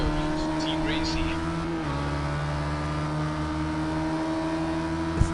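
Radical SR3 race cars drive flat out down the straight at Hockenheim. Their engines give a loud, steady, high-pitched drone with a brief drop in pitch partway through, and a commentator talks over them.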